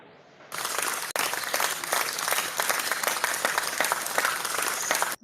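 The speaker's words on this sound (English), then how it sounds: "Let me clap for you." Steady audience applause and clapping at a Biafra liberation gathering, a dense continuous patter from many hands lasting several seconds before cutting off.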